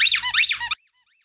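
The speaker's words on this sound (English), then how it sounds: "the squeaky fish will sound" A squeaky fish toy used as a timer gives one loud, wavering squeak of under a second that rises and falls in pitch, then cuts off into silence.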